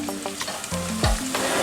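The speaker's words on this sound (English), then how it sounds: "So we're going to fry that until both of them start getting aromatic." Ginger and garlic fry in a pan with a steady sizzle, broken by a few stirring scrapes and clanks, close and loud with no talking.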